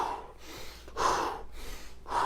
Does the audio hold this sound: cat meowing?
no